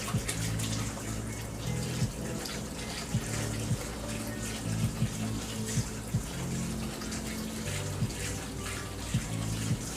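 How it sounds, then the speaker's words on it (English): Tap water runs steadily into a sink while cooked noodles are rinsed of starch for Vietnamese bun rieu crab noodle soup, a continuous close splashing wash with faint clinks. "you're gonna rinse them because they have a lot of starch on the outside of them"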